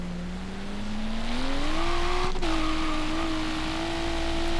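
A car in Forza Horizon 3 revving hard in a parking lot while doing donuts, its engine pitch climbing then holding a sustained high drone, loud and close, with no voices.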